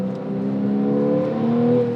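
First-generation Porsche 911 with factory Sport exhaust, 50th anniversary edition, revving with a steady throaty drone that swells toward the end, alone and close.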